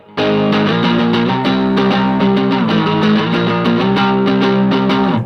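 Electric guitar played through a heavy distortion effects pedal, loud, thick chugging chords and riffs that ring steadily and alone with no talking.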